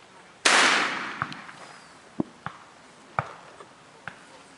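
A single loud shotgun-like gunshot cracks out while hunting birds in Jamaican bush, followed by a decaying boom and several sharp small clicks and knocks nearby in a quiet outdoor setting.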